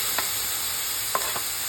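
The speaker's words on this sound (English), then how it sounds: "Add some oil to a pan. Saute the onions first." Onions sautéing in oil in a pan, a steady soft sizzle with a few faint utensil scrapes as they are stirred.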